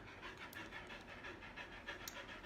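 A pet dog named Monty pants steadily and rhythmically close by, the quick breaths repeating evenly throughout against a quiet indoor background with no talking.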